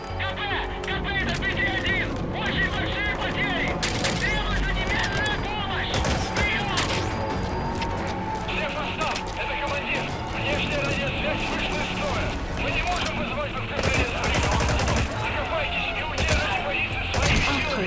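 Repeated bursts of gunfire and shots smashing through windows in the video game Metal Gear Solid 5: The Phantom Pain, dense and loud throughout, mixed with game effects and voices talking over the action.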